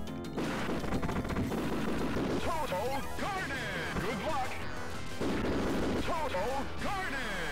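Dense arcade gunfire and crashing explosions from the 1991 shooter Smash T.V., a continuous loud barrage with rapid repeated blasts and zapping tones over a busy game soundtrack.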